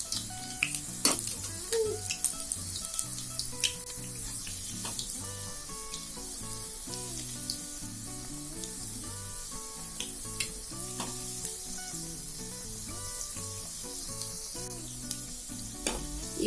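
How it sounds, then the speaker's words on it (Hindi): Cheese Schezwan pakoras deep frying in hot oil, a steady close sizzle and bubbling with occasional utensil clinks, no talking. "हम इसे डीप फ्राई करेंगे।"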